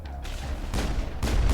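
Pistol fire in Mass Effect combat, two or three sharp, punchy shots spaced about half a second apart, loud and close with a low boom under each.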